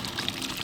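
Water being drained off boiled bhungre, a brief steady rush and splash of liquid pouring out, close and continuous.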